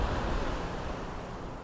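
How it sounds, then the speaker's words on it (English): Ocean surf and wind roar at Grenen, Denmark, in a steady, full broadband wash, loud and continuous with wind buffeting the microphone and no voices. "how much noise the ocean and the wind makes"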